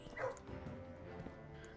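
Puppy in the Blue Prince video game giving a short, high yip followed by soft whimpering sounds, brief and moderately close.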